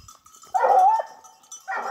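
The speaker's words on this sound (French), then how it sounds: "Ils s'approchent les chiens. Les chiens approchent." Dogs on a mountain hiking trail let out a howling bark followed by another bark a moment later, fairly close, with no talking in between.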